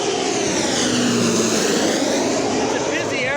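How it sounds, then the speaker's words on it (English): Aircraft engines roar loudly and continuously at a busy airport, a broad sustained drone with shifting tonal sweeps, while a voice talks over it. "It's a busy airport."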